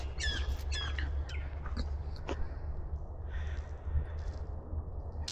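Near dusk in a forest, a bird gives a run of loud, harsh squawking calls at varying distances over a steady low rumble and wind hiss.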